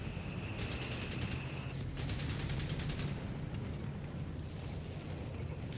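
Tank cannon fire and shell impacts in a Company of Heroes 3 four-versus-four battle on the Oasis Depot map, with dense overlapping booms and rumbling blasts, loud and continuous throughout.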